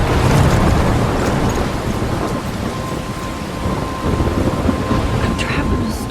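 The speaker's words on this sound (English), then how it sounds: "I'm trapped in a storm?" A thunderstorm in the Life is Strange video game: steady loud rain hiss with low thunder rumbling throughout, no talk heard.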